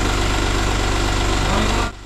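A BMW 528i E28 fitted with a racing head idles loudly and close, a steady low rumbling throb with slight roughness, then drops away sharply near the end.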